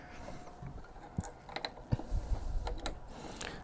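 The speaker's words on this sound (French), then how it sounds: "Les connecteurs sont en métal, font clic." Metal cable connectors snap into place on a JGMaker Artist-D IDEX 3D printer, giving a few sharp, close clicks at irregular intervals over light handling noise.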